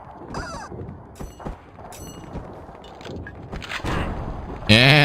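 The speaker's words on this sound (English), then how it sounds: "And that was a good grenade throw." Grenade blast in the shooter game War Brokers, a sharp loud burst near the end following scattered gunfire clicks and mechanical game noises, with a voice talking faintly under the action.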